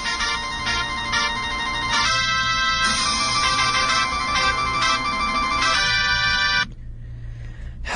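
An electronic email notification alert chimes and rings in a loud, steady melodic pattern for most of the stretch, then cuts off abruptly near the end, leaving low background hum.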